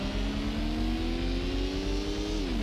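Dodge Viper engine droning steadily in Gran Turismo, a sustained loud rising tone as the car accelerates, with a slight drop in pitch near the end.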